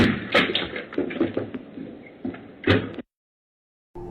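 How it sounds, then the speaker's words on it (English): A front door is kicked in by burglars in broad daylight, with a series of heavy thuds and a loud crashing impact near the end, followed by a sudden silence. "They proceed to kick in the homeowner's door in the middle of broad daylight."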